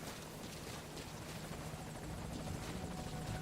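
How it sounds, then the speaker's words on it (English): A helicopter arrives in the video game Metal Gear Solid V, its rotor drone a steady, faint, even wash with no clear peaks, heard alone without talk. "Come on, chopper."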